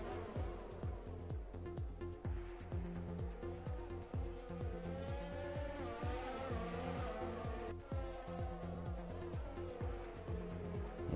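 Race cars from the F1 2020 game, with a steady high engine whine that rises and falls under a rhythmic pulsing drone. Brief tire squeal and passing-car sweeps come as one car overtakes another.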